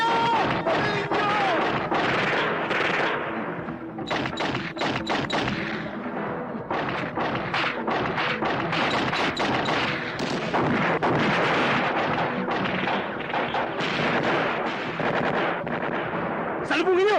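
Intense movie shootout with dense bursts of gunfire and heavy thumping blasts, loud and nearly continuous, punctuated by sharp cracks and rapid volleys, with shouting voices mixed in.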